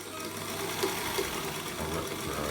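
A Singer 221K1 Featherweight sewing machine stitches steadily at a fast, even rhythm, a fine rapid mechanical whirr running throughout at moderate level with no talk.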